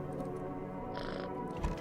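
Cat in the video game No, I'm not a Human meowing as it is petted, a single clear drawn-out meow over a low background hum.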